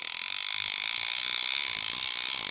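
An Okuma Solterra level wind fishing reel's clicker ratchet buzzes loud and close, a continuous rapid metallic clicking rattle with no pauses.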